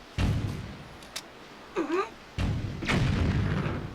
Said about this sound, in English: Are they shooting at me?